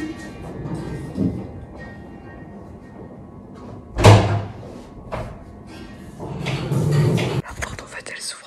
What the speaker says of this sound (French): La porte en fait elle s'ouvre avec le courant d'air et j'ai cru que c'était quelqu'un.